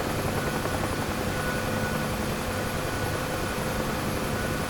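A Huey helicopter in the DCS flight simulator comes in to land while losing hydraulics, its rotor and engine making a dense, constant roar that stays loud and even throughout.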